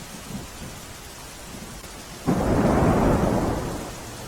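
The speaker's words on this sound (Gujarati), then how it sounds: "સુરતના ગ્રામ્ય વિસ્તારમાં 2 દિવસના વિરામ બાદ વરસાદ પડ્યો છે।" Heavy rain bursts in suddenly over a quiet outdoor scene in rural Surat, a dense steady roar of downpour on surfaces that swells loud and then eases slightly, with a faint rumble underneath.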